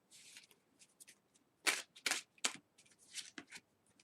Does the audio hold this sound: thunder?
no